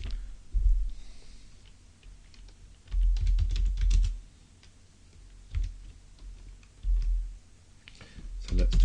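Typing on a computer keyboard while writing a Java program, heard as bursts of rapid close key clicks separated by quieter pauses, with a few heavier thumps among them.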